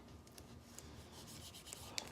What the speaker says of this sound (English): So I'm just going to tape this thing up